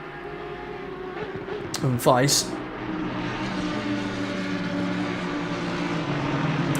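GT3 race cars racing at Imola in Assetto Corsa Competizione, steady engine drone with a rising whine as one car passes, running under close commentary talk.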